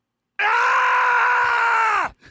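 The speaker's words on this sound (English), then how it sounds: "Would you like to hear what it sounds like when Sonic Unleashed dies?" Sonic's death scream in werehog form from the video game Sonic Unleashed: a single loud, sustained, strained howl lasting under two seconds that cuts off abruptly, followed by a faint tail.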